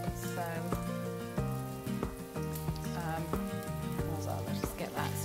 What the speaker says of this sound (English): the burgers and sweet potato are frying off